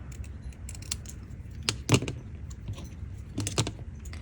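Scissors snip a paper strip with a series of close, crisp clicking cuts in irregular rhythm, several of them sharper and louder than the rest.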